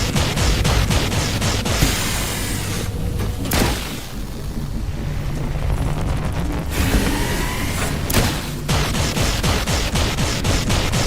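Gunfire in the video game The Last Caretaker: rapid repeated shots and booming bursts in steady volleys over a loud continuous background, with a brief lull midway.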